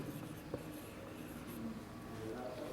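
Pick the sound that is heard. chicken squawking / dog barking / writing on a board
writing on a board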